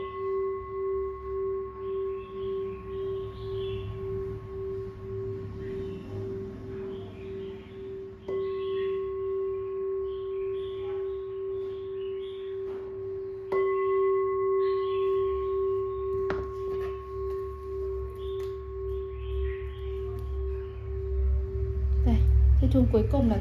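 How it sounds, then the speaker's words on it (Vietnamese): An old Japanese bronze temple bell, number 9, is struck several times, each clear tone ringing out and sustaining a long, slowly fading hum, with fresh strikes layered over the lingering resonance, heard close by. "Em đánh chiếc chuông số 9 nữa."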